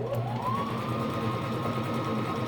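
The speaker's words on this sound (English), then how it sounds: "I'll just pull and I'll stretch that elastic as I sew over it" A sewing machine runs a zigzag stitch over stretched elastic for a wool diaper cover, giving a continuous, even mechanical whir close by with no pauses.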